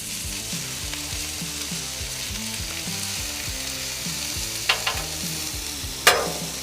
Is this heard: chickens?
no